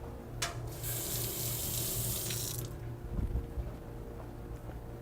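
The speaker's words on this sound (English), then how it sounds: "And I'm going to just rinse off this spoon real quick." Water runs from a kitchen tap for a couple of seconds as a spoon is rinsed, a steady bright splashing stream, followed by faint handling noises and quiet room tone.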